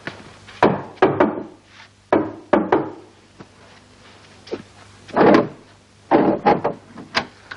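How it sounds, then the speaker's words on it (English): A special coded knock on a wooden door: sharp, close raps come in short irregular groups with gaps between them, forming a patterned signal rather than a steady beat. "Did you give the special knock?"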